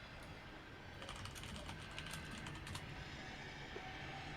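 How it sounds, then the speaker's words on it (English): Typing on a computer keyboard during a tabletop Dungeons & Dragons session, a quick patter of soft key clicks clustered in the middle, faint under steady room hiss with no talk. "Typing."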